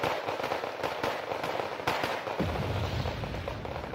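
Artillery in the strategy video game Wargame fires as a stream of sharp, cracking blasts, with rapid irregular bangs over a dense rumbling backdrop, steady and moderately loud for the whole stretch.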